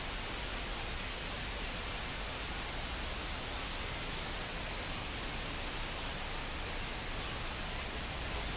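Rain comes down at an OKC Comets baseball game against the Chihuahuas, a dense, even hiss of falling drops that holds steady and fairly loud from start to finish.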